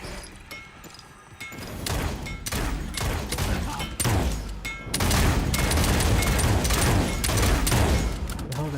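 Dense video game gunfire, rapid overlapping shots and thumping impacts that grow heavier and louder midway, a continuous barrage with a voice faintly beneath.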